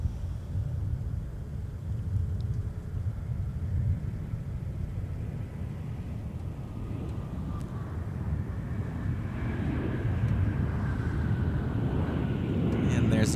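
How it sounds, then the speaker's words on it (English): A United Airlines Airbus A320 airliner at MSP airport gives off a steady low jet rumble that builds gradually toward the end, with wind noise over the microphone and no talk. "And there's another identical United A320."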